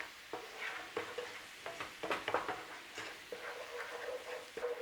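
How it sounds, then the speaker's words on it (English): Spices stirred and frying in hot oil in a pan give off a soft, steady sizzle with repeated scraping and tapping from the stirring, quiet and close, with no speech. "in with our spices, as usual, a nice stirring round in the oil"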